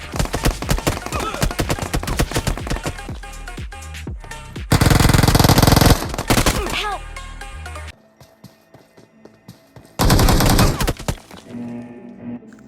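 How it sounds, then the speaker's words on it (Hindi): Rapid gunfire crackles in dense bursts during a BGMI (PUBG Mobile) match, shots fired by a distant shooter, loud and punchy, alternating with quieter gaps while a person talks over parts of it. "मेरे को कोई दूर से गोली मारता है"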